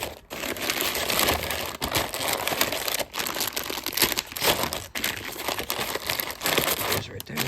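Plastic packs of soft fishing worms crinkle and rustle loudly and close up in continuous handling, with brief pauses between bursts of crackling.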